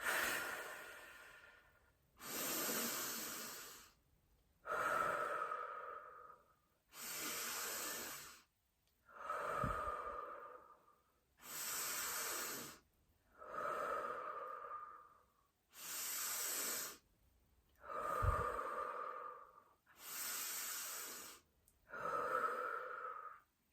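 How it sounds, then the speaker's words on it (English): Slow, deep breathing exercise: about a dozen long, even breaths alternating airy nasal inhales and softer mouth exhales, each separated by brief silence, close and quiet. "let's take a nice deep inhale through our nose, and then we're going to do an exhale out of our mouth"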